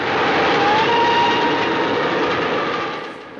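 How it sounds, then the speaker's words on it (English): A steam train tears through a station at high speed. Its roar is loud and continuous with a faint whistle-like tone riding over it, then eases off slightly near the end. "the movie opens with just a spectacular shot of a train blasting through a station."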